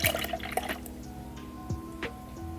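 Canned bubble tea trickles and drips as it is poured, a faint liquid splash against a steady low background hum, with no talking.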